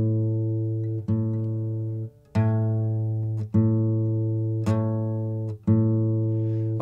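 Guitar strings are plucked in pairs while being tuned by the 5th fret method, five or six sustained notes ringing out one after another and overlapping as they decay. The tones are close and clear, with no talking over them.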